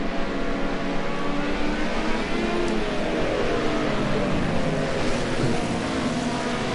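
Group A touring cars race around Zolder in a video game, a steady loud engine roar with shifting revs and whine sustained throughout, no pauses.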